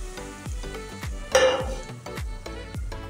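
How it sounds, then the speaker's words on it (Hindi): Spices and tomato paste being stirred in a pot for a pakora curry, with repeated knocks of a spoon against the pot roughly every half second, a brief louder clatter in the middle and a soft sizzle underneath. "अच्छे से मिक्स कर लेंगे।"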